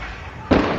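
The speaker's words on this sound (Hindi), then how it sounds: "पटाखे आपके पीछे फूट रहे हैं क्या?" A sudden burst of firecrackers going off outdoors near a wedding. A loud, crackling blast breaks through a quieter background.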